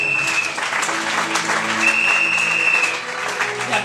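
A church congregation applauding and cheering loudly and steadily throughout, dense clapping with a sustained high whistle or shout riding over it.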